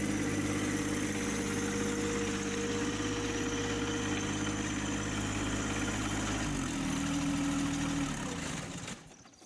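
A John Deere 1025 compact tractor engine runs steadily while the machine reverses and drags a large pile of brush, a loud, close, continuous drone with a slight shift in pitch near the end before it fades.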